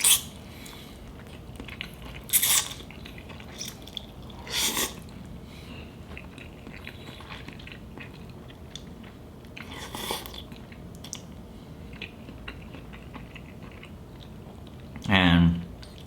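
Someone eating noodles chews with a few short, crisp bursts of mouth noise spaced seconds apart over a quiet room background.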